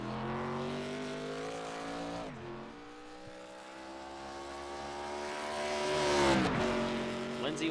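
The number 99 race car laps Road Atlanta during qualifying, its engine a loud sustained whine that drops through gear shifts and climbs again as it accelerates down the track.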